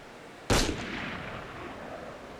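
A single sharp gunshot from the video game Assassin's Creed Unity cracks out loudly, then trails into a long rolling echo that fades slowly, with no talking.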